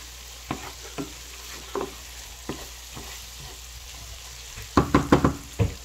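Shrimp cooking in a pan for a rice dish, a soft continuous sizzle under occasional spatula scrapes, ending in a quick burst of louder clattering stirs.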